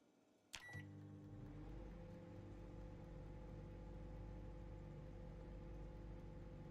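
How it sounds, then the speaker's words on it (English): A microwave in the video game Project Zomboid starts with a sharp click and beep, then settles into a steady low hum that runs on evenly throughout, with no voices. "Let's just throw them in the microwave real quick."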